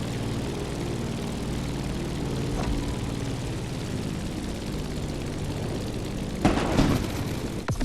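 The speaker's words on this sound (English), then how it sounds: "Let's start our descent and get ready for the landing." A propeller airplane descends toward landing in The Crew Motorfest on the approach to Honolulu, its engine drone steady and close throughout, with a brief louder surge near the end.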